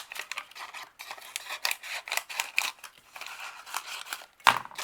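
Scissors snip through a paper cupcake holder in a quick series of close, crisp cuts with papery crinkling, ending on a sharper snap.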